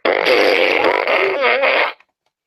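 A loud, drawn-out fart noise, buzzy and wobbling for about two seconds before cutting off abruptly.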